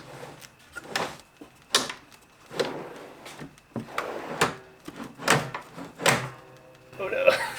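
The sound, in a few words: test fitting a wooden drawer on drawer slides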